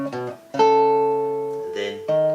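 Acoustic guitar with the A and E strings struck together as a two-note dyad, a few quick plucks followed by a long ringing chord that slowly decays, then fresh strums, close and clear.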